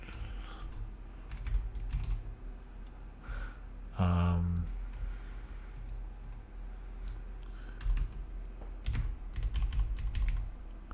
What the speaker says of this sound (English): My mic is right in front of my keyboard